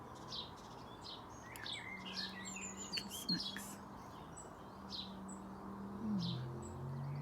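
Great tit parent and chick calling in a garden, with repeated high chirps and short tweets scattered across the stretch, moderately near, over a steady low hum and a few murmured words.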